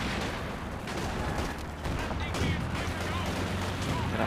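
Artillery bombardment in Company of Heroes 2, with dense overlapping booms and crackling blasts rolling continuously at loud volume and no pause across the stretch.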